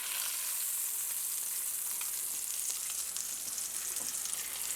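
Pork chops browning in a hot pan for slow cooker Boursin pork chops give a steady, close sizzle and crackle of frying fat with occasional sharper pops, continuous throughout and free of talk.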